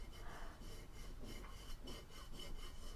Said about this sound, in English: I'm just rubbing my thumb across to make sure everything's done